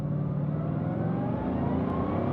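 A Bugatti Divo accelerates hard down a short straight, its engine a loud, steady, rising roar heard from close by, with no other sounds over it.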